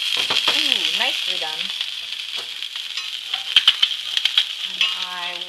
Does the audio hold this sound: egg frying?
yes